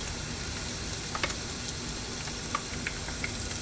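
Crab rangoons frying in hot oil give a steady, close sizzle with a few sharp pops and crackles scattered throughout, and no one speaks.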